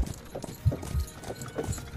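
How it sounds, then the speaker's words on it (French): Horses grow agitated in a Victorian horror tabletop role-playing session, with several rhythmic hoof clip-clops on hard ground at moderate distance and a low, busy background. "vous entendez des chevaux qui commencent à s'exciter"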